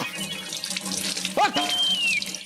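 Water splashing down from wet clothes being wrung out on a sunny rooftop, a steady close pouring and splattering that runs throughout, with a brief sharper splash midway.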